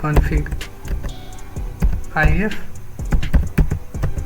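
Quick irregular clicks of fingers typing a command on a computer keyboard, close and crisp, with a voice talking over the keystrokes.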